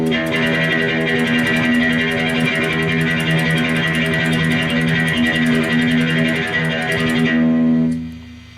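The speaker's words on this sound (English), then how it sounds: "So now I'm going to do a tremolo, and it sounds like this." A guitarist tremolo-picks the open low E string, a fast even stream of pick strokes on one sustained low note that rings loud and steady for about seven seconds before cutting off.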